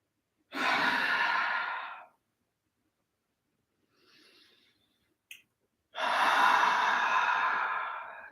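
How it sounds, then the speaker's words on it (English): Two long, deep breaths during a qigong session, each a soft breath drawn in through the nose and let out through the mouth. A faint small breath and a brief click fall in the quiet gap between them. The breaths are close and alone, with no talk. "We breathe in through the nose, out through the mouth."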